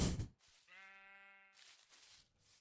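A sheep in the Minecraft video game gives a single drawn-out, wavering bleat, clear and close, framed by bursts of noisy game sound before and after.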